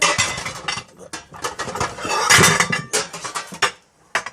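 A metal loaf pan for a Brinkman smoker is handled, clanking and scraping in repeated close, loud bursts with brief pauses between.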